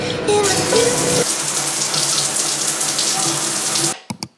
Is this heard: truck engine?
no